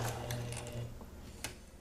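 Sewing machine stitching fabric at an angle, a steady close mechanical hum with a regular rapid stitching rhythm that runs throughout, briefly easing near the end before a small click.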